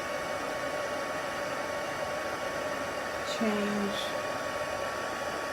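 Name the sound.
heat tool blowing on a closed container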